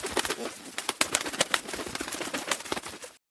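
Pigeons coo repeatedly up close in a busy, overlapping flock, soft throaty calls mixed with rustling and pecking clicks, cutting off abruptly at the end.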